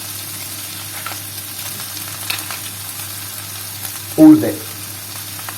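Drained sardines hitting a hot pan, a steady low sizzle running throughout with a brief louder burst of spitting oil near the end, heard alone without talk.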